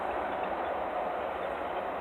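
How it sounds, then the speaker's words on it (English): Steady rumble of a train coming in nearby, a continuous low rolling roar with faint rail noise, no voices over it. "sounds like the train's coming in"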